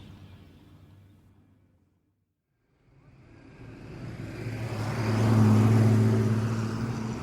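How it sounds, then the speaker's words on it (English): A huge Chrysler motor car pulling up in a radio drama: engine noise fades to silence, then a deep motor swells in, growing louder and closer into a sustained rumble. "A huge Chrysler motor car belonging to Pakrashi Industries has just pulled up from Domnum Airport"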